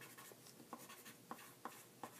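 Colored pencil scratching across paper while shading moon phases, soft continuous scribbling strokes with a few sharper taps, faint and close in a quiet room.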